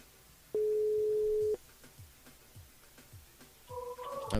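A telephone call to a radio listener goes unanswered, sounding one long steady tone followed by repeated soft pulses, with a brief clatter of other tones at the end.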